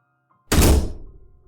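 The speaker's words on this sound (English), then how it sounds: "I heard a loud bang against my back door" A single loud, heavy bang hits a back door, a deep thudding impact that rings briefly and then fades, alone in otherwise quiet surroundings.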